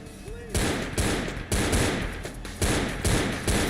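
Shotgun blasts in Vampire the Masquerade: Bloodlines, four heavy, loud booms spaced roughly a second apart, each with a sharp onset and a ringing tail.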